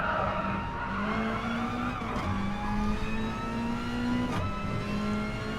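Mazda touring car racing in a sim racing game at Brands Hatch, engine droning steadily with a rising and falling pitch as the pack runs close together, with brief tyre squeal and some skidding.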